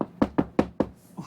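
Five sharp, evenly spaced knocks on an RV door by police, close and loud, followed by a softer sixth tap.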